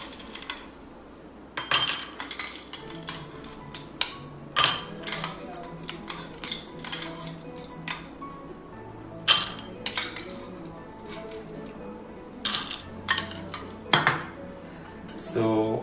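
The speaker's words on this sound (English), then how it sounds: "So first we have to take few ice cubes." Ice cubes clink and rattle into a cup while iced dalgona coffee is being made, giving a series of sharp, irregular glassy knocks, some louder than others, over a steady backdrop of background music.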